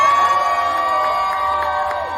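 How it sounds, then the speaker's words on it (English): A food festival audience cheers and whoops for a contestant, a loud dense crowd roar with shrill children's shouts sustained throughout the short burst. "Give a cheer for him."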